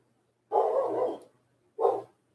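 A dog barks twice nearby, first a long, rough bark and then a shorter one after a brief pause, loud against an otherwise quiet background.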